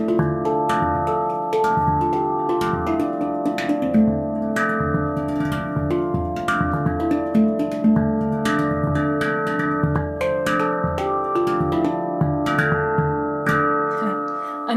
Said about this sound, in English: In this case, this is a D minor handpan.